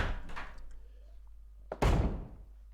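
A door opens in Resident Evil with a heavy thunk near the end, after a quieter stretch of faint game ambience.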